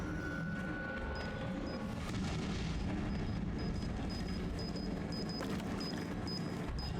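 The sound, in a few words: bomb explosions in the video game Resident Evil 7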